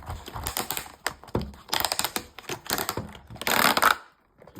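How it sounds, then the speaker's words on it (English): Plastic packaging of a Logitech M720 Triathlon mouse being pulled open by two tabs, a run of close crackling, snapping and rustling bursts that stops abruptly near the end. "So open, you need to pull down on these 2 tabs apparently."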